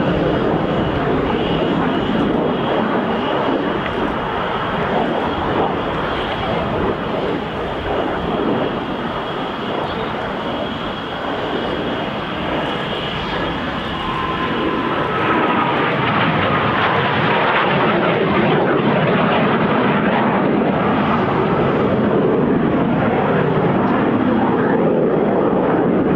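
A BAC Strikemaster jet roars steadily overhead at the RAF Cosford airshow, a loud continuous engine rush with a high whine that shifts in pitch as the aircraft passes and turns.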